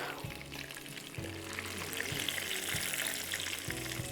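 Food frying gently on low heat in a home kitchen pan, a steady soft sizzle and bubbling crackle running continuously with no talk over it.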